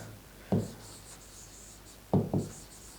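Chalk or marker writing the word biceps on a board: three short scratchy strokes, one early and two close together later, standing out clearly over a quiet room background with no talking.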